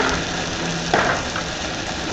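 Chicken with green and red onions sizzling steadily in a hot pan, a dense, even frying hiss throughout with a brief stir or clatter near the middle, no talking.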